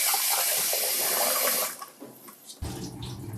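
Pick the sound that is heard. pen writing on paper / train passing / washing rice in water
washing rice in water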